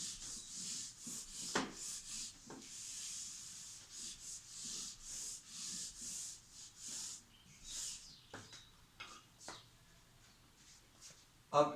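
A written section being rubbed off a board, rapid scratchy rubbing strokes in short bursts with pauses, fairly faint and close.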